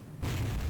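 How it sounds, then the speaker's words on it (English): A hog character blowing up in the 1999 game Hogs of War, a sudden deep boom that bursts in after a brief quiet moment and rumbles on loudly. "Why did I explode?"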